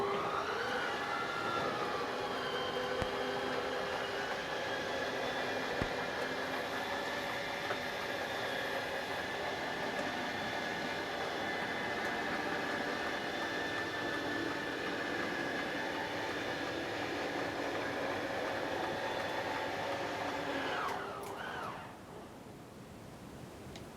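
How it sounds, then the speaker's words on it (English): Slide-out room motors on a Thor Motor Coach Class C RV whine steadily with a layered electric hum for about twenty seconds, then cut off abruptly, followed by a brief, quieter reversal. "you kind of heard where the motors kind of stop, and then you heard a little reversal"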